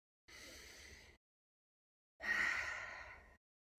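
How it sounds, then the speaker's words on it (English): A slow, deep breath taken at the opening of a virtual new moon circle: a long soft inhale, a pause, then a fuller, louder exhale, close to the microphone with no talking. "I'm just going to take a deep breath to drop in"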